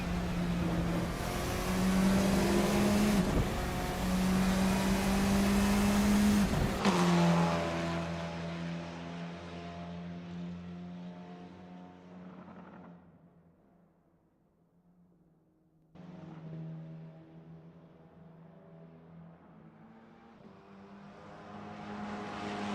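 Simulated Formula 4 car at Melbourne in Assetto Corsa: a loud, steady high-revving engine that abruptly backs off and fades nearly to silence, then a quieter engine hum returns and builds toward the end.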